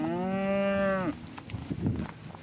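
A dairy cow on a farm gives one loud, drawn-out moo lasting about a second, followed by quieter rustling and shuffling nearby.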